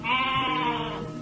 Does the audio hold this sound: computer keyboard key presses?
no